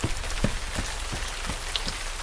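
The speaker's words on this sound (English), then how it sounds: "It's the first heavy rain of the year" Heavy rain pouring steadily onto a surface, a dense, constant hiss with scattered louder drips and patters, close and unbroken.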